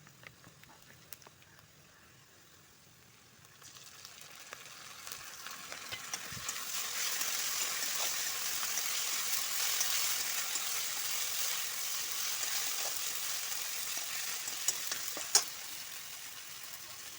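Ginger garlic paste sizzling in hot oil, the frying hiss rising after a few seconds into a steady crackle, with occasional stirring clinks and faint speech in the background.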